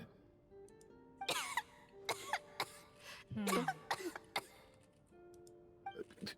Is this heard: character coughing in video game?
yes